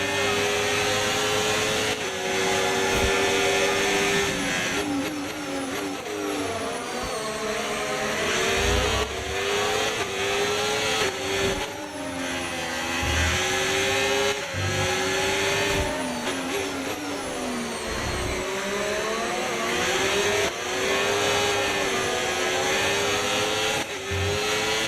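An F1 25 race car engine screams at full throttle, a loud, continuous high-revving whine that rises and dips through gear changes and corners, with no talk over it.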